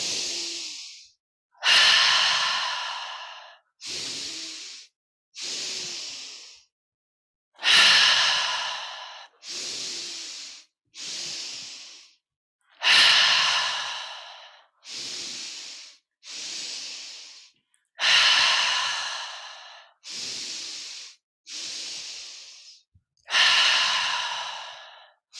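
A yoga breathing exercise: about fifteen breaths in a steady pattern of two quick sharp inhales followed by a long, loud sighing exhale, close to the mic with no talking.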